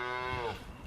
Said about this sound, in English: one cow stumbles by, looking for his favorite spot.